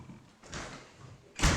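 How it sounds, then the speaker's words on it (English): A front door swings shut with a firm thud near the end, preceded by soft rustling and movement indoors. "Front door."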